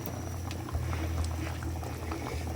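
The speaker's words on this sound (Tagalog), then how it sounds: "Kumulo na siya." Fish bone soup of tuna bones at a rolling boil in a pot, a dense continuous bubbling and popping with small splashes, close and steady throughout, with no talking.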